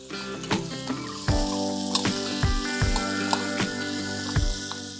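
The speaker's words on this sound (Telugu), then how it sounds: "ఒక పెద్ద ఉల్లిపాయ ఇందులో వేసి వేయిస్తున్నాను" A large sliced onion fries in a pan with pepper for jeera rice, a close, steady sizzle broken by a few sharp clinks and stirring knocks, with no speech.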